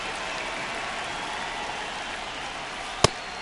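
Steady rain falling on a baseball field in a video game, a dense even hiss with one sharp click near the end and no voices.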